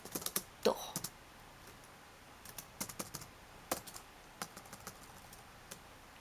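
Computer keyboard typing in irregular bursts of crisp, close key clicks, with short pauses between clusters while characters are entered for Japanese emoticons.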